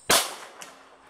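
A single sharp report from a 7.62x25 pistol, a loud crack with a quick decaying tail and a faint echo returning a moment later.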